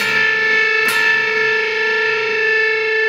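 A sustained guitar interval against the open A string rings with distortion, its tone wavering and pulsing as the two notes beat against each other.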